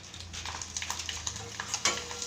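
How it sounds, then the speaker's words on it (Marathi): Flattened rice crisps (poha kaap) drop into hot oil and fry with a soft, steady sizzle broken by small bubbling pops and light crackles, close and fairly quiet. "तर इकडं तेल गरम झालेलं आहे आणि आत्ता याच्यात टाकूया हे असे."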